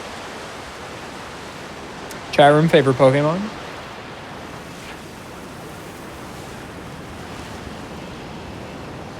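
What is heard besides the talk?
waterfall in Pokémon Scarlet/Violet video game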